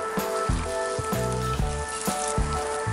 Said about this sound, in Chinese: 电饼铛预热刷油，放入小饼